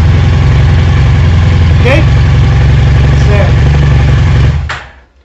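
A motorcycle engine in neutral with the ignition circuit closed runs at a loud, steady idle close by, with someone talking over it, then cuts off abruptly near the end.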